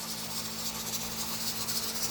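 Steam hisses steadily out of a just-opened canning pot used for carrots, a close, even, broadband rush that holds at one level the whole time with nothing else audible.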